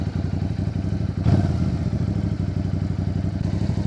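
Motorcycle engine idling steadily at a raised idle, a continuous near mid-pitched putter with one brief louder clunk early on, no talk over it.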